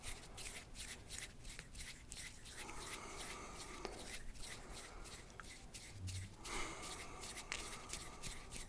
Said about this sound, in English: Some more hand sounds so I can catch my breath